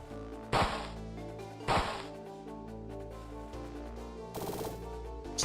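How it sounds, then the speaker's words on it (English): Gunfire in the video game King Static, shot through gaps in trees: two sharp, loud cracks about a second apart, then a burst of rapid shots, all over a steady layer of game music. "I can almost pull a fast one shooting through the trees"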